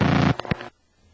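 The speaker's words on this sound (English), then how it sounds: "That caused the normal clicks of dialing to make more of a razzing sound like this." A rotary telephone dial with a modified spring, sped up so its normal clicks merge into a short, harsh razzing buzz followed by a few quick separate clicks, then quiet.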